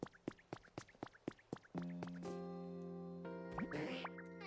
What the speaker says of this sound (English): There's spring water around here.